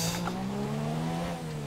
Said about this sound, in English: hello, brake lockup